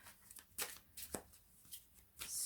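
Tarot cards being shuffled and drawn in a reading: a few soft papery riffles and flicks in quick bursts, close and quiet, with no talking.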